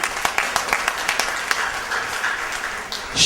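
Applause in a synagogue celebration hall during a hillula fundraising auction, a crowd clapping steadily with sharp individual claps standing out, fairly loud and continuous with a louder burst at the end.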